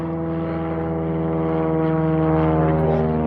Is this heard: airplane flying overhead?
yes